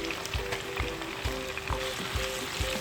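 Tomatoes hitting hot oil with fried ginger chicken in a pan, a loud, close, steady sizzle with soft rhythmic stirring thumps underneath.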